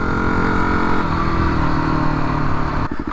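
A Yamaha WR250R dual-sport motorcycle's 250cc engine revs loudly and close, a steady buzzing drone that drops off near the end into a few rhythmic putters.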